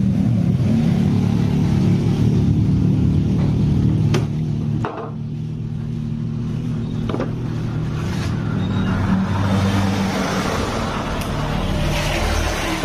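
A carbureted Honda Beat scooter engine runs steadily with a low, even idle hum, loud and close; a sharp clatter breaks in partway through before the motor settles back to its steady drone.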